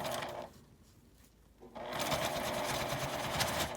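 A sewing machine topstitches the folded-in seam allowance of a zippered fabric toilet paper case, running in a steady dense whir, pausing briefly mid-way, then resuming louder and continuous.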